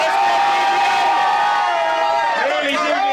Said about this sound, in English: Make some noise for your winner, Deviant.